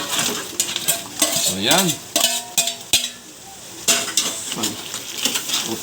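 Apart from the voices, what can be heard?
steamed crabs added and stirred in a pan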